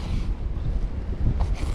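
Strong wind buffets the microphone on a seashore at night during float fishing, a loud, gusty low rumble with faint surf behind it and no voices.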